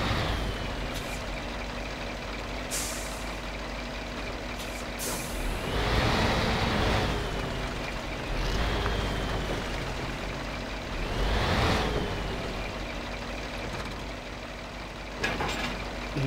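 A heavy logging truck in Spintires: Mudrunner rumbles and strains while reattaching a log trailer, with engine swells, hissing air-brake bursts and metallic clunks over a continuous low drone.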